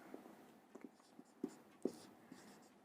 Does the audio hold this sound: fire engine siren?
no